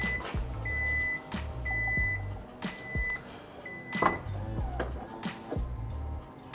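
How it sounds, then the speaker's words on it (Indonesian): A Hyundai Ioniq 5 power tailgate closes with its soft-close mechanism: repeated electronic beeps ring out among sharp clicks, thuds and a faint whirring motor in a quiet space. "Kalian dengar nggak bunyi dia ngevakum si pintunya itu"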